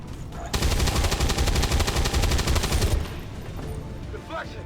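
Rapid automatic gunfire firing Shredder Ammo in the XCOM video game, a loud, dense burst of rattling shots lasting about two and a half seconds. It stops abruptly and is followed by faint lingering effects.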